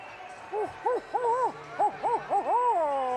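A child vocally imitates a barn owl call in a string of short, wavering hoots and screechy swoops, roughly eight close, loud bursts with an irregular rhythm.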